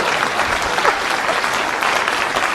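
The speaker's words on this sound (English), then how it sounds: "Please clap." An audience applauds steadily, many hands clapping in a dense, sustained wash of sound with no voices above it.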